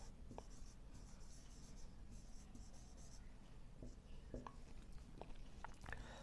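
Pen strokes scratch across paper as notes are written during a polity lecture, a run of close, quick scribbles with short pauses and a few taps.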